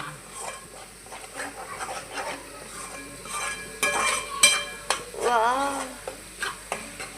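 Masala frying in oil and being stirred in a home kitchen, a steady close sizzle with scraping and clinking of a spoon against the pan, growing louder midway, with brief faint voice and squeaky sounds over it.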